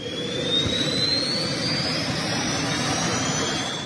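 A military jet pack suit's thrusters roaring steadily during an army demonstration at an airborne training school in Agra, a loud continuous jet whine with a rising high-pitched tone and no talking.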